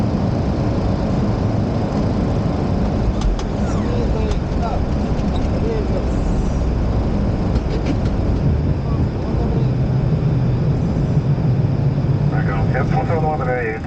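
An airliner touches down on runway 36 right at Paris, heard from inside the aircraft as a steady loud rumble of engines and rolling wheels with faint rattles, while a voice talks over it throughout.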